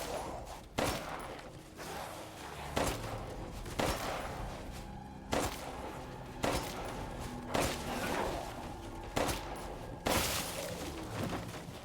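Gunfire in the Resident Evil Village video game: about ten separate loud shots, spaced roughly a second apart, each a sharp crack with a short tail, over a steady game background.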